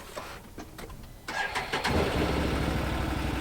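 A Can-Am vehicle's engine cranks with a few clicks, catches and settles into a low, even, fairly quiet idle rumble close by.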